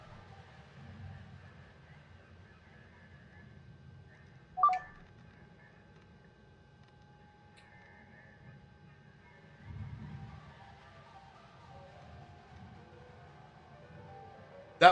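Telephone dialing tones play from a PC while a Hardspace: Shipbreaker game runs, with steady tones, a couple of sharp beeps and low rumbling background noise.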